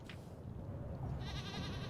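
A goat bleats in the horror game Little Goody Two Shoes, a wavering, nasal call rising near the end over a dense, murmuring low background bed, fairly faint and alone without talk.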